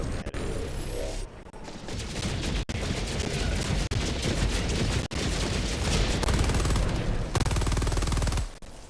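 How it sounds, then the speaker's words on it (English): Machine gun fire in the shooter game Helldivers, loud sustained bursts of rapid shots with brief pauses between them, close and dominant. "Your machine gun will shred that flying thing like butter"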